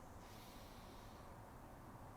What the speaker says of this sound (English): Take a deep breath in